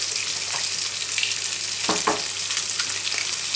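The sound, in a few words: garlic and onion frying in a pan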